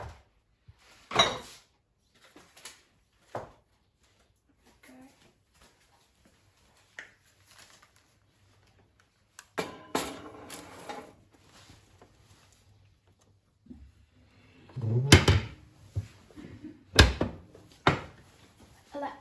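A banana bread tin goes into a kitchen oven: a scattering of clanks, taps and the thud of the oven door, with quiet gaps between the louder knocks.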